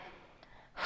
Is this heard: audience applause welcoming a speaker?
no